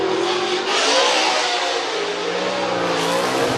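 A brand-new Nissan 370Z drift car on a street circuit at Long Beach, California, screams through a Formula Drift qualifying run, its engine revving loud and continuous with rising and falling pitch as the throttle works through the corner.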